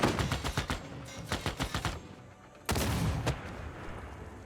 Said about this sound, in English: let's bring this tank up. Start doing some damage.